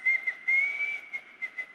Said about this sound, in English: There's the whistle then to start the second half.